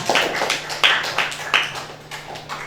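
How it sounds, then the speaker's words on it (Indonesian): A small classroom audience gives a group of presenters a round of applause, a brief scattered burst of hand claps, fairly close and uneven, fading after a couple of seconds. "kita kasih aplaus buat kelompok 5"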